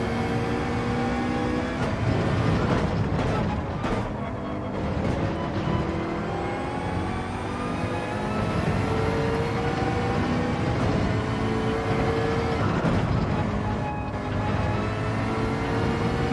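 A McLaren race car lapping in Gran Turismo 7, engine droning loudly and continuously with pitch shifts through corners and gear changes, close and unbroken.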